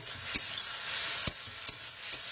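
Greens frying in oil with salt and turmeric, a steady close sizzle broken by a few sharp stirring clinks at irregular intervals, with no voices.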